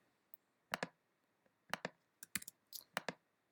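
Computer mouse clicks while selecting with the magic wand tool in image editing software: a few crisp, close clicks, some in quick pairs, spaced by quiet gaps.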